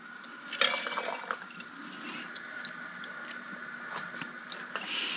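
Navy bean soup broth ladled into canning jars for pressure canning: a wet splash and pour near the start, then soft dribbles, clinks and liquid squishes continuing quietly and close up.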